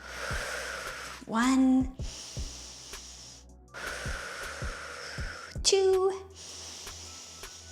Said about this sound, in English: 3 big breaths here